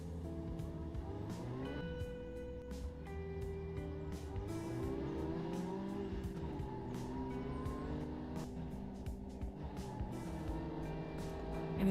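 A car in the Second Life virtual world drives steadily, its engine droning with rising and falling pitch as it shifts and accelerates, continuous and fairly close, with scattered clicks over the hum and no talking.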